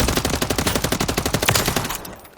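Rapid automatic fire from a Remington ACR rifle in Call of Duty Modern Warfare III, a loud, evenly paced burst of shots that cuts off near the end, leaving a short fading tail.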